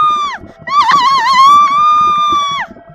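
A witch named Sakina lets out a loud, sustained shriek with a wavering, whinny-like pitch in a horror story, breaking off briefly before a long scream that cuts off sharply near the end.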